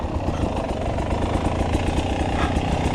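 2019 Beta 300RR Holcombe Replica dirt bike on single track, its engine buzzing steadily at low revs with small rhythmic throttle pulses, close and continuous, no talk.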